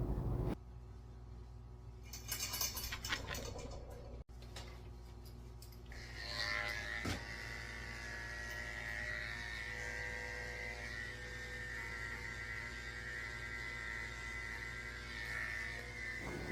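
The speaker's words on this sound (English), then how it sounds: "shaving his face with a 10 blade" Electric clippers fitted with a 10 blade buzz steadily while shaving a Cavalier King Charles Spaniel's face; the close, low hum switches on early and runs on with brief handling noises.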